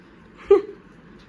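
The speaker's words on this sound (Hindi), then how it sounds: "क्या है ये कुत्ता?" A dog gives a short, high whimper, one brief whine followed by the start of another, close and fairly quiet in a still room.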